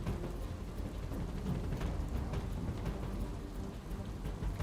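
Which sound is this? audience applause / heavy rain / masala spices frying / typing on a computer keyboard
heavy rain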